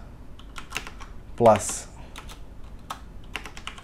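Keys tapped on an Apple computer keyboard for a Command plus K shortcut, a few scattered clicks and one louder press near the middle, with a voice speaking briefly.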